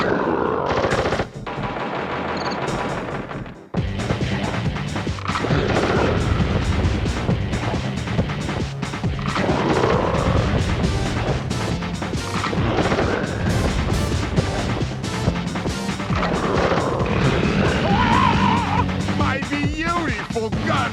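Rapid gunfire and heavy explosive booms pile up continuously in the Sly Cooper video game as a gun is destroyed, loud and chaotic, with music and effects layered throughout.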